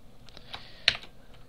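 C# code being typed on a computer keyboard: a short run of light, close key taps with one firmer keystroke near the middle, no talk.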